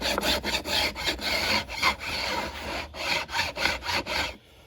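A metal file rasps guitar fret ends flush with the wooden neck in a run of quick, even back-and-forth strokes, close and alone, ending abruptly.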